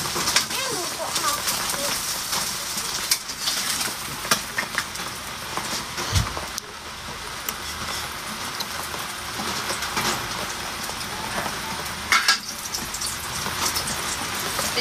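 Eggs and eggplant sizzle in a frying pan, a loud, steady rain-like crackle running throughout while people talk over it.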